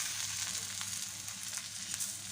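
Thalipeeth flatbread roasting in oil on a pan over a medium flame, giving a steady close sizzle with scattered crackles throughout.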